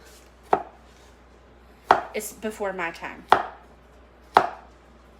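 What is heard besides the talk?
knife chopping food on a cutting board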